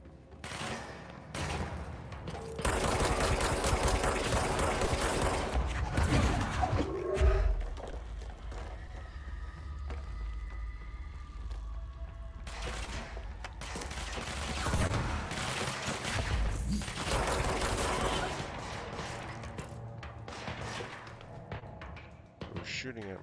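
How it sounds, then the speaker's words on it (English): Bursts of gunfire in the video game Control, with loud repeated volleys and heavy thumps across the span, broken by quieter gaps carrying sustained tones, and speech-like sounds mixed in. "Who's shooting at me?"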